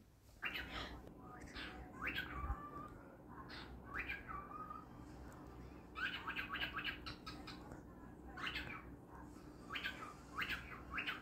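A pet cockatiel named Ghandi chirping and whistling in short repeated calls, some with a speech-like quality, steady over a soft room background and fairly close.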